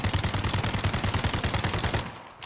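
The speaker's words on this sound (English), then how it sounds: "Chong just throwing some bullets down the line there" Rapid automatic gunfire from a 2v2 gunfight video game match, a steady close burst of evenly spaced shots rattling for about two seconds before cutting off abruptly.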